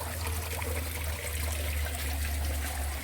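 Water from a pump trickles steadily up a hose into the filter of a small aquaponics system, a continuous close-up splashing flow over a low constant hum, no talk.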